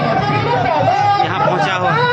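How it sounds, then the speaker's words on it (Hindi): A dense crowd of thousands packs a road at an Adivasi rally for Marangburu Parasnath, producing a loud, steady babble of overlapping voices with no pause. "आप देख सकते हैं हजारों की भीड़ है"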